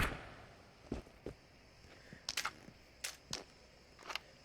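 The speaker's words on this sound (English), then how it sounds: "Changing mag." Quiet clicks and metallic clacks of a gun magazine being swapped in the VR shooter Into the Radius, a few sharp transients spread over several seconds, close and alone.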